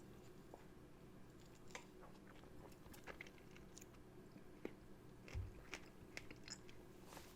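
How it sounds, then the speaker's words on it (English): Close, quiet bites and chewing on a strawberry, with soft wet crunches scattered irregularly over a low room hum and one louder chomp near the end. "That was me chewing on a strawberry"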